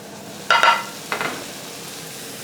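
Minced meat sizzles and crackles in a hot pan, close and moderately loud, with a few sharp bursts from stirring and no talking.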